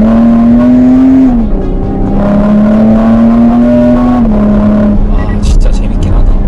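A Porsche Cayenne Coupe with an internal combustion engine drives along, its engine holding a steady, prominent drone that dips and climbs gently as revs shift, with rougher road noise near the end.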